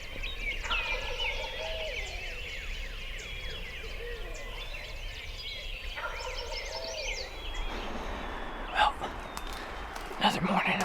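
A wild turkey gobbler gobbles repeatedly in open Wisconsin woods, rattling calls at moderate distance, with faint sounds of hunters nearby and a couple of sharp knocks toward the end.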